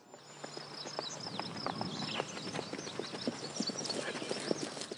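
Horse hooves clip-clop in a steady, fairly close rhythm on the Wikwemikong reserve, with scattered whinnies and insect chirping in the background and no talk.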